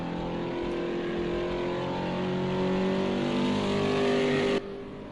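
Race cars circle the track in Project Cars 2 during a Thursday Night Thunder race, a loud continuous engine drone that climbs slowly in pitch as one car accelerates, then drops suddenly near the end, with no talking.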